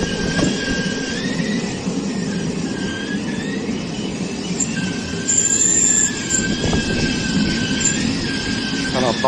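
Train at a large railway station, with steady rumbling rail noise, recurring wheel squeals and faint station background carrying throughout.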